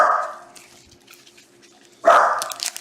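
A dog barks loudly and close by during a live evening online trading-card case break, one sharp burst of barking after a quieter stretch, with a lighter bark at the start and no talk over it.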